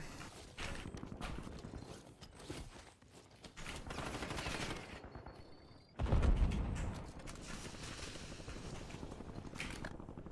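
Call of Duty video game gunfire rattles out in rapid bursts of shots with mechanical clicks between them. A heavy, louder volley cuts in partway through and continues until the end.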